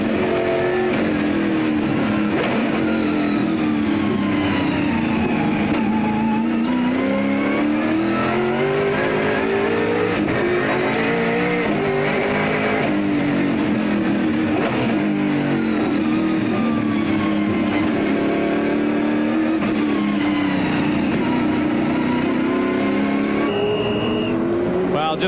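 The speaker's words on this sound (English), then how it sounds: "Just a fantastic sound from inside that big V8 Ford" A big V8 Ford touring car roars onboard during the 1997 Sandown 500, loud and continuous, its revs climbing and dropping through repeated gear shifts across the whole stretch.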